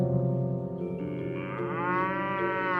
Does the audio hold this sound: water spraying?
no